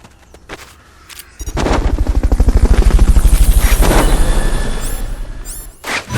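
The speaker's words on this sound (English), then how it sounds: "Fulton recovery helicopter is complete." Fulton recovery helicopter in the PSP video game Metal Gear Solid Peace Walker: a loud, steady rotor chop with rapid rhythmic thumping that swells in after a brief quiet start and holds for several seconds, without talk.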